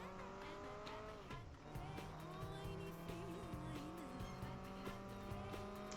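Racing cars from the Xbox 360 game Project Gotham Racing 4 roar with shifting engine pitch while tires squeal and skid through corners, loud and continuous, no talking.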